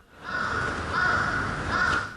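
Crows call in a Japanese setting near railways, three loud harsh caws in a row, close and clear with no talk over them.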